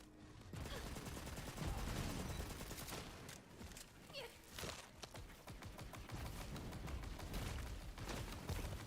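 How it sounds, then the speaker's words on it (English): Rapid, dense gunfire from a fire weapon blasting sand sharks in the Tiny Tina's Wonderlands video game, a loud, nearly continuous barrage with sharp bursts and a few faint cat-like cries mixed in. "My new fire weapon should make short work of these guys"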